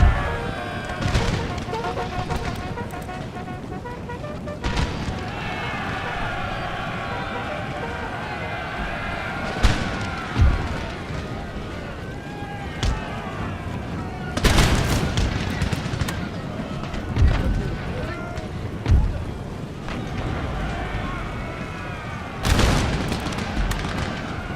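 Musket volleys in an Empire: Total War battle with the 15th Foot (East Ridings) in a 1725 Russian campaign: repeated sharp crackling bursts of gunfire, several loud rolling volleys standing out over continuous battle din, with someone talking throughout.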